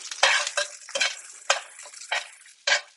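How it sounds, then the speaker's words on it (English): Cauliflower puree gets stirred in a pot, producing a series of about seven close, wet scraping strokes with a faint simmer between them and no talking. "Make sure I'm stirring my cauliflower puree."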